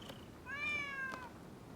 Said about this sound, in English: Who'd have thought a stray cat would wander in?